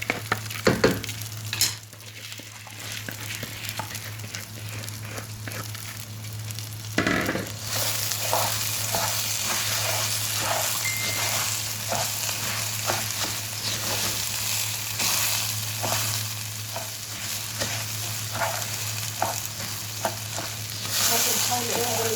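Rice frying in oil in a pan, a steady loud sizzle with repeated scraping stirs throughout and a constant low hum underneath.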